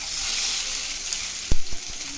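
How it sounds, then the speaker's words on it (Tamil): Stuffed masala chillies toast in a hot pan with a steady, dense sizzle, broken by a few sharp clacks and pops near the end; no one talks. "இப்போ வைக்கும் போதே பாருங்கள் நல்லா டோஸ்ட் ஆகுது."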